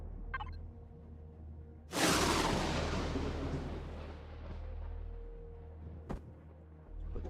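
Sentry gun turrets fire in Empyrion Galactic Survival, a single loud blast that decays slowly into a roaring rumble with a short sharp crack later, no voices.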